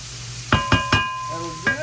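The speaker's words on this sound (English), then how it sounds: "That skillet has to be as hot as you can get it in order for it to properly stir fry and get everything nice and tender" Shredded cabbage stir-fries in a very hot skillet, a close sizzle broken by several sharp clattering knocks of a utensil against the pan, with a faint steady whine running through.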